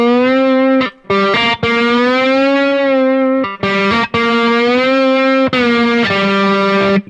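A guitar note played with a glass slide resting lightly right above the fret, buzzing with distortion: long sustained tones that glide slightly in pitch, separated by a few short breaks and sharp string noises, close and loud.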